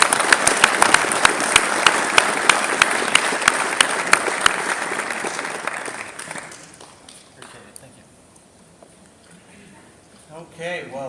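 An audience applauding to welcome a speaker, a loud dense burst of clapping that gradually thins and fades out after several seconds, followed by faint room noise and a brief voice at the end.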